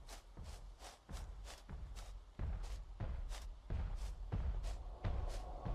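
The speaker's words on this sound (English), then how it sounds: "Large stompy footsteps." Heavy thudding footsteps from the giant creature in the Sirenhead horror game pound in a steady, fairly quick rhythm, each landing with a deep low thump that grows a little louder over the stretch.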